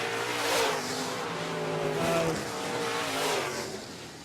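Late model race cars roar steadily around a dirt oval, several engines droning together with rising and falling pitch as the pack sweeps past.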